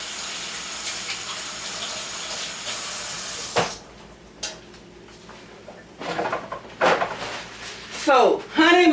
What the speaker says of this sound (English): Let me wash my hands.